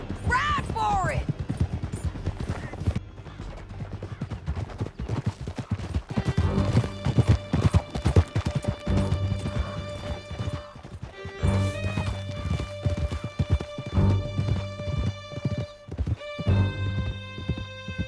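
Galloping horses ridden in Red Dead Redemption 2, rapid clip-clop hoofbeats running steadily through the whole stretch, with an occasional whinny, shouted voices and game music layered over the hooves.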